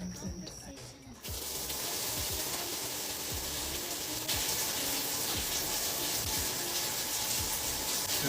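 A home shower is switched on and runs steadily, a loud, close, continuous broadband hiss of spraying water that begins after about a second of quieter room noise and keeps going without any talk over it.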